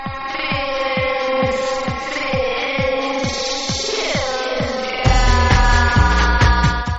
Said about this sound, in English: That was one of the scariest time stretches I ever heard on the radio.